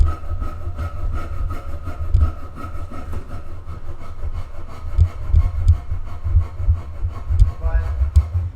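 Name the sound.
carving a guitar body by hand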